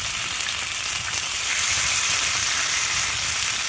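Meat frying on a hot tent stove during winter camping in the woods, a loud, dense and continuous close sizzle that holds steady from start to finish, with no voices.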